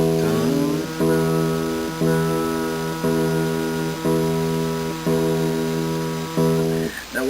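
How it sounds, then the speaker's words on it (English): A guitar's low E string plucked repeatedly for tuning, six steady notes about a second apart, each ringing with clear harmonics and sustaining close and loud, with no talk over it. "first of all, you just tune your E string"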